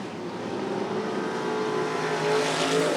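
Limited modified race cars roaring off on the green flag at a speedway's Halloween event, a dense steady engine drone that swells slightly toward the end, heard from the stands without talk.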